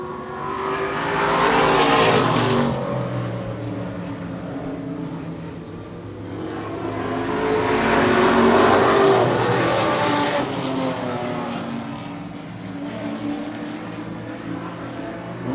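Race cars running wheel to wheel roar past in two loud swells, each building and fading, with a steady engine drone carrying on between the passes and no voices.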